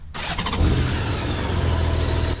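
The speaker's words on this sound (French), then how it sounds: "Chevauchant sa grosse cylindrée" A big-displacement motorcycle engine cranks and catches, settling into a loud, throbbing idle with a deep low rumble, close by and steady for a couple of seconds before a slight drop.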